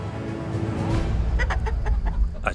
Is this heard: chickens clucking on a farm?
yes